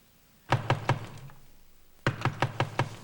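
Loud knocking on a door, a quick set of three heavy raps followed after a pause by a second, longer series of about six firm, evenly spaced knocks, close and insistent in a quiet room.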